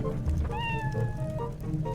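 A cat meows in Zelda: Twilight Princess HD, a single rising then falling cry heard over a steady low in-game background hum.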